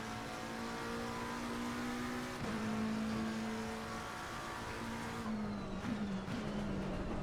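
A race car in a racing video game laps Brands Hatch, its steady engine drone dipping under braking and then climbing again as it accelerates, heard fairly quietly and alone.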